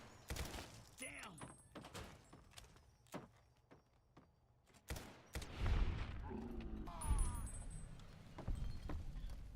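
Gunfire in the Fallout game Tale of Two Wastelands, a run of sharp, fairly loud shots and bursts mixed with game effects, with a voice talking over part of it.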